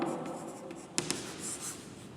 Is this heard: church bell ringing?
no